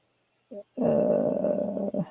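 A dog growls, starting with a brief low grumble and then a sustained, rumbling growl that lasts almost two seconds, close and fairly loud against a silent background.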